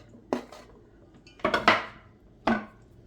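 A utensil stirs corn dough with flour, salt and baking powder in a bowl, giving a few sharp, separate clacks against the bowl with quiet gaps between and no voices.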